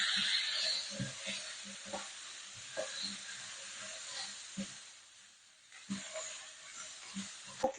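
Halved potatoes hitting hot oil in a pan, giving a steady broadband sizzle with scattered clacks and stirring knocks, moderately loud and close, no voices.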